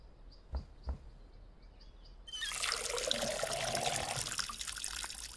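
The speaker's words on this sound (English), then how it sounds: "We need to pour water on this" Water pouring onto plants in the Schedule 1 video game: two soft clicks, then a steady, gentle trickle that runs on to the end.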